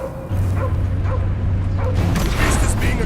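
Cosmo the dog in Guardians of the Galaxy gives several faint yips and barks under a loud, dense action din, with a steady low rumble through most of it.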